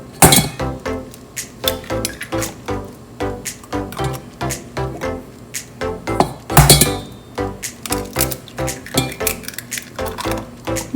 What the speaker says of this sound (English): First, we are going to add 4 eggs into this bowl.